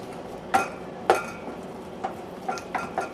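An egg being beaten into cooled turkey soup in a bowl: sharp utensil clinks against the dish, two strong strikes followed by a run of lighter, quicker taps, close up with no talking.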